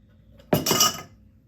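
Sazerac cocktail strained into a chilled glass, a short close splash and clink of liquid and glass lasting about half a second after a quiet start.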